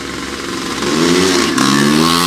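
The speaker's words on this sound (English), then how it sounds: "I don't know if you could hear us because the other bike was running" A second motorcycle runs close by alongside a 1974 Yamaha RD350, its two-stroke engine loud and rising in pitch as it revs up, with a brief jump in intensity midway and no talking.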